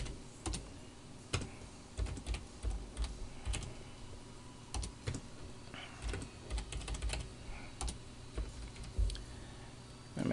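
Typing on a computer keyboard, close and fairly quiet, in irregular bursts of sharp clicks and keystrokes with short pauses between words, alone without talk.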